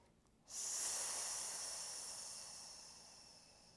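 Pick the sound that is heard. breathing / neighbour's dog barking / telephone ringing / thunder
breathing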